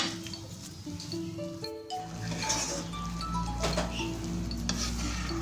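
Chicken and vegetable ragout filling with added water stirred in a pan as it thickens: continuous soft sizzling and scraping with a few light utensil clinks and a steady hum underneath.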